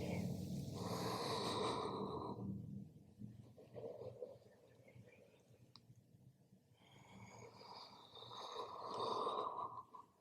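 Slow, deep breathing during a pregnancy yoga cat-cow exercise, long airy inhales and exhales rising and falling in cycles, close and soft, with a quieter pause in the middle and no talking.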